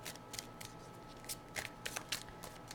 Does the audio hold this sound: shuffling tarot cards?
yes